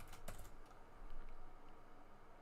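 Quick keystrokes tap on a computer keyboard, with a short burst of clicks near the start and then faint background hiss, quiet and close.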